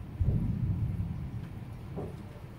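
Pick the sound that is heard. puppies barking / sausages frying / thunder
thunder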